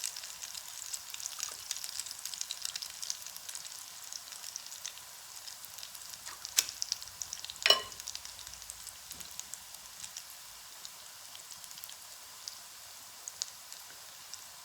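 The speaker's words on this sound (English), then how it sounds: "They'll cook for 3 to 4 minutes on one side, and then flip them, and they'll cook 3 to 4 minutes on the other side." Zucchini latkes fry in a pan with a quiet, steady sizzle and crackle, broken by a few sharper pops and taps near the middle.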